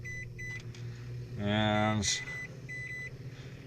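A microwave oven heating bowls of corn in a camper van, a steady low hum with a short run of harmonic beeps partway through, and a voice speaking briefly.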